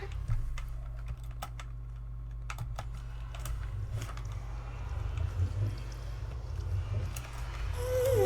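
Clicky, irregular keystrokes on a computer keyboard as a chat message is typed during a Minecraft survival game, close and fairly soft over a low steady hum, with bursts and short pauses.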